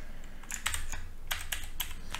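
Rapid clicking keystrokes on a mechanical keyboard that needs cleaning, fairly faint and irregular, heard alone with a low background hum.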